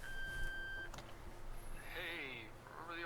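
A mysterious modern phone in the video game Ether One gives a steady electronic tone, followed by a short click and then warbling, chirping digital ringing sounds, faint and close.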